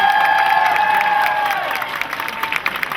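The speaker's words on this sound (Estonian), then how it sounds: "Ja et teeksin ühe veidi suurema plaksutuse tohib" Festival crowd at Baltic Pride in Tallinn breaking into applause and cheering, a dense wash of clapping that swells up after a few sustained tones fade, loud and close.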